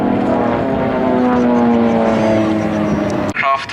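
Swiss Air Force Pilatus PC-7 propeller aircraft flying at an airshow, a steady loud droning engine roar with shifting pitch as planes pass, ending in a sudden burst of noise.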